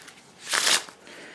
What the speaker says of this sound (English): And yes, I'm shuffling the cards face up for some unknown reason.